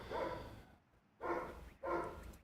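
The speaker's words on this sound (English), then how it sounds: "Y'all can hear my dog." Excited pet dog barking in three loud, close bursts separated by short pauses, heard indoors while a rallycross race is about to start.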